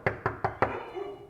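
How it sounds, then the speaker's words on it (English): Four quick, firm knocks on a door at a goat shelter, evenly spaced and close, followed by a brief faint sound as the knocking stops. "Let's knock on the door and see if we can get her to come out and tell us goodnight."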